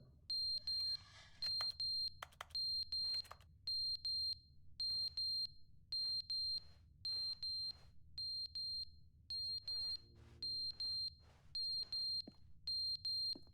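A smoke detector alarm in The Stanley Parable: Ultra Deluxe on PS5 sounds a steady train of shrill, evenly spaced electronic beep bursts that repeat for many seconds, loud and alone.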